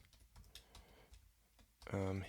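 Quick clicks on a computer keyboard, irregular key taps near and faint, quiet gaps between them, ending in a short louder tonal burst.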